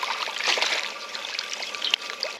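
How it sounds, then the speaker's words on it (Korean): Tap water runs steadily as halved napa cabbage is rinsed under the stream, a continuous close splashing trickle with small irregular spatters and no talk. "배추를 씻어 보겠습니다"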